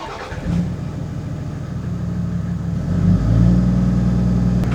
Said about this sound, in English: let's go turn the car on